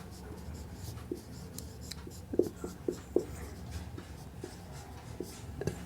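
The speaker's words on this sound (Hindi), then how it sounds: "लिख देता हूँ।" Chalk or marker writing on a classroom board, scattered taps and scratchy strokes in irregular bursts under a teacher's voice.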